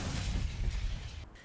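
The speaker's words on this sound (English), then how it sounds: "Israeli tanks again fire on targets in the Gaza Strip." Israeli tanks firing on targets in the Gaza Strip: heavy, muffled booming rumble with rolling low-end blasts, fairly distant and continuous over a short stretch, no voices.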